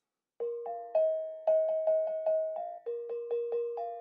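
A set of museum bells rings an E flat note, a series of about a dozen clear, separate chimes in an uneven rhythm, close and fairly quiet with no talk.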